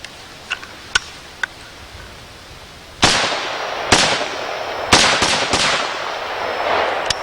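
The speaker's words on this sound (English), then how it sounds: "let's take a look at our M1A in recoil" An M1A rifle fires several sharp, loud reports with ringing decay, spaced about a second apart after a few quiet mechanical clicks, outdoors.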